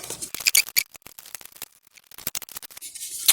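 A plug-in rechargeable emergency night light is torn out of its plastic packaging, giving a burst of crinkling, scraping and snapping plastic noises. They come in irregular clusters separated by brief pauses, close up.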